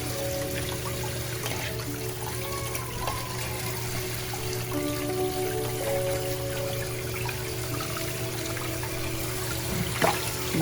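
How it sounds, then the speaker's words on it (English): Tap water running steadily while cleaned crabs are rinsed, a continuous close trickle and splash with faint clinks, no voices. "So the cleaned ones, we are getting them washed"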